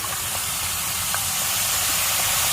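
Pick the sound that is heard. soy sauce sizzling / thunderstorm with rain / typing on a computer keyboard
soy sauce sizzling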